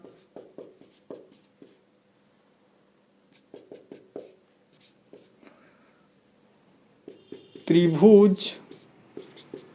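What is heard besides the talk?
writing on paper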